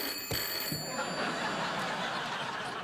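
A telephone rings on a late-night TV talk show set, a thin steady tone ringing out over the hum and chuckles of the studio.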